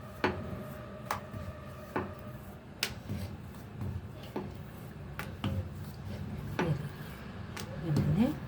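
A knife cuts rolled sakkarpare dough on a board, making a series of sharp taps at irregular intervals about a second apart, with soft kitchen noise between them.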